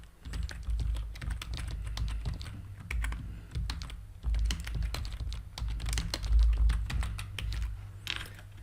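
Fingers typing on a computer keyboard in rapid bursts of sharp clicks with short pauses between runs, heard close and clear with no voices.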